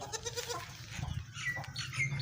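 A young goat on a farm in Pakistan bleats several times in quick succession, close and clear, with some background rustle and faint farm noise.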